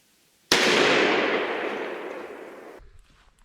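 A single loud blast from a Remington 870 youth 20 gauge pump shotgun firing a 1.5 ounce Federal #9 TSS load, a sharp onset followed by a long decaying outdoor echo, with nothing else around it.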